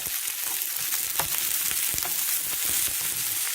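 Cabbage frying in a pan over low heat, a steady soft sizzle with faint crackles and stirring scrapes, close and continuous without talk.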